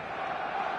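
A stadium crowd in a football video game keeps up a dense, steady roar of massed voices with an expectant, buzzing quality, continuous and fairly loud across the brief moment.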